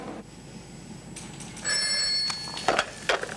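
A telephone bell rings in a hospital reception, a bright metallic trill starting partway through and continuing alongside soft clunks and background room noise, with no one speaking.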